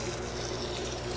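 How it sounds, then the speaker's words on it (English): Water is poured steadily over perlite while an egg box is built for reptile eggs, making a continuous close splashing wash with no break across the short moment and no voices. "I'm just going to pour the water"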